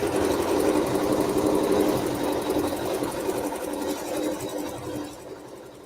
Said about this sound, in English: it's going to sew the seam and it's going to leave an opening so we can turn